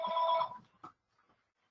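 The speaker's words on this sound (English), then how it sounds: "I always forget to turn off my office phone during webinars" An office phone rings once with a short electronic trill, then falls quiet apart from faint scattered thumps; a brief snatch of another ring starts at the very end.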